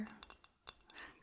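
Light glass clinks from a beer glass, several brief bright taps spaced irregularly, close and faint, with no talking.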